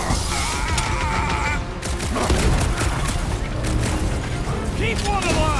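Gunfire during combat in the video game Guardians of the Galaxy, a dense, loud barrage of shots and booms mixed with energetic battle music and effects, with voices shouting over the din.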